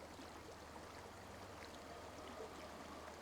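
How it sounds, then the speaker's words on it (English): Water flows in an Elder Scrolls Online forest, a quiet, continuous trickle and babble that holds steady and fairly faint, with no voices. "Oh, pure water."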